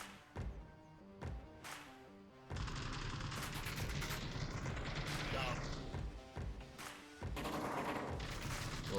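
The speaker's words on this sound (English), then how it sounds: "Little suppressive fire coming in there, directed at no one in particular" Suppressive gunfire in the VR shooter Onward, with repeated bursts of automatic rifle fire and scattered single shots at mid distance, loud and sustained, while a commentator talks over parts of it.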